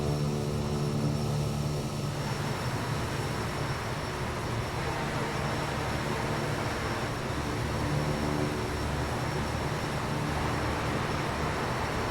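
Quest Kodiak 100 single-engine turboprop in flight, its engine and propeller droning loud and continuous with a steady hum and broadband roar, heard from inside the aircraft.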